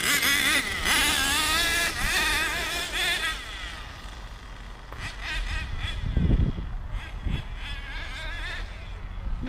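A Kyosho Mad Force GX 21 nitro RC monster truck drives on its final run, its small engine buzzing and revving loudly with rising and falling pitch, fading and surging as it passes near and away.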